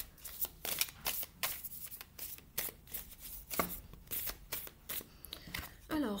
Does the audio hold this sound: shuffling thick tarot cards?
yes